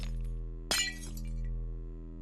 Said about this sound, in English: And then break those glass.